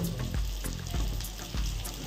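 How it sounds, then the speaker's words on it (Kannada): Rolls and cutlets frying in hot oil give a steady, close sizzle and hiss, broken by soft thumps about every half second. "ಅಕ್ಕ ರೋಲ್ ಫ್ರೈ ಮಾಡ್ತಾ ಇದ್ದಾಳೆ ಮತ್ತು ಕಟ್ಲೆಟನ್ನು ಫ್ರೈ ಮಾಡ್ತಾ ಇದ್ದಾಳೆ"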